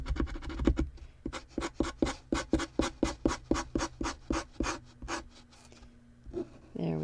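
Arteza acrylic paint marker scratching across a container while painting sakura cherry blossoms, a rapid series of about twenty close, rhythmic rasping strokes, loud and alone.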